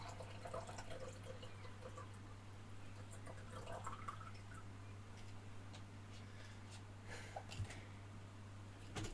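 Water being poured into a cup or glass during a break from a rapid chess session, a steady faint liquid trickle with small drips and splashes over a constant low electrical hum.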